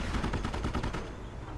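Rapid gunfire in the strategy game Company of Heroes, a dense close burst of repeated shots in quick rhythm that tails off into a rumbling fade.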